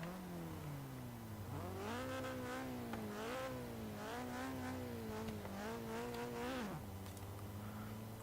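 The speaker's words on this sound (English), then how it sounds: "It does backfire and spit flames," A Nissan 240SX in Forza Horizon 3 revs hard through rising and falling engine pulls, loud and close, with the engine note climbing and dropping several times, though distinct backfire pops are not clearly separable from the engine roar.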